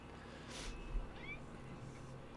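A pet cat gives a short meow and then a second, softer one, both faint against a quiet room.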